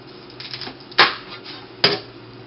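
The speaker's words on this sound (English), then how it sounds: "Just going to cut off the broccoli ends." A kitchen knife chops through broccoli stalk ends on a cutting board, with two sharp, distinct cuts about a second apart over a quiet background.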